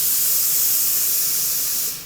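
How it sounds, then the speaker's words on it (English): A Laura Star steam iron blows out a strong, steady hiss of steam at close range. It keeps going for about two seconds and then tails off. "First, you always blow the steam out of the Laura Star."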